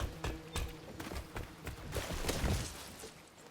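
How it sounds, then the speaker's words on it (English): Footsteps in the stealth video game Dishonored, a run of loud, hard steps thudding one after another in a steady walking rhythm, close and fairly prominent with no voices over them. "Gotta watch our footsteps because they're loud"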